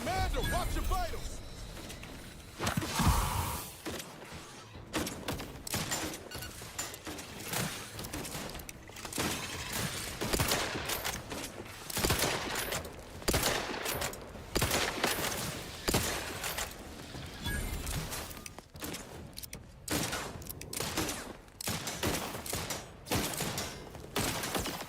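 Gunfire in the shooter game Outer Worlds 2, a dense run of rapid shots and sharp cracks throughout, with voices talking among the firing.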